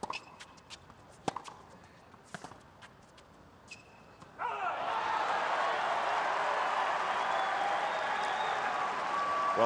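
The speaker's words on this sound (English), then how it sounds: "it sounds like plenty of people are cheering for him now" A crowd at the 2015 U.S. Open tennis final breaks into sustained cheering and applause. Quiet shuffles and scattered claps come first, then a sudden loud roar holds steady to the end.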